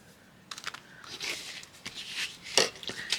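Sticker backing is peeled away while a journal page is decorated, giving close, quiet crackling and tearing rustles in short bursts, with one sharper rip near the end.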